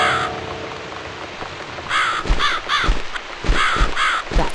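A crow caws repeatedly in The Cat Lady video game, several harsh calls in quick succession, fairly close and clear over a soft rain-like background hiss.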